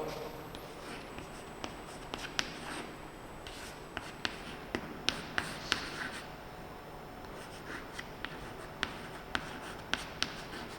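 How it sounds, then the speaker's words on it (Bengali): Chalk or marker writing on a board during a Bengali-language history class, a steady run of small scratchy strokes and taps, close and moderately loud, with no talking over it. "আমি এটি লিখে দিচ্ছি"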